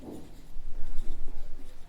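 A pen scratches steadily across paper as geometry notes are written out, a close, soft, continuous rubbing with small rhythmic strokes and no voice over it.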